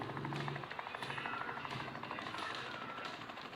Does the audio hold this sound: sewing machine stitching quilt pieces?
no